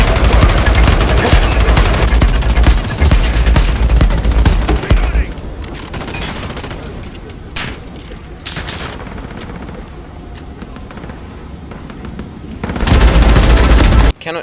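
Gunfire in the video game Modern Warfare: loud bursts of rapid automatic fire, then a quieter stretch of scattered single shots and clicks, then another heavy burst at the end.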